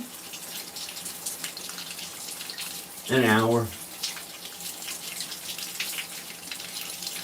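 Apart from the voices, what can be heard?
warm water running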